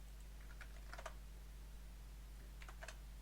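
Fingers type on a computer keyboard, two brief bursts of quick, faint key clicks over a steady low electrical hum.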